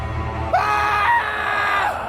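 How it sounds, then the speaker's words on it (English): Two people scream in horror inside a snowbound house with a broken window, shrill overlapping cries rising suddenly and holding for over a second before trailing off, loud and close. "the two of us screamed in horror whilst remaining frozen in confused panic"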